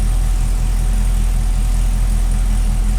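A Cadillac CTS-V with Texas Speed headers idles close by, a loud, steady low rumble with an even pulsing throb and no other sounds.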